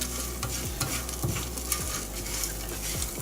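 Eggs and TVP are stirred together in a hot pan with a constant sizzle and repeated scraping of a utensil, close up and steady, with no talking.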